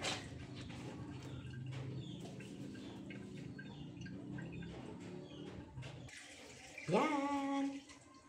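Water runs steadily into a sink while laundry is rinsed by hand, a soft continuous splashing with faint clatter, then a louder gush near the end, with a bird chirping in the background.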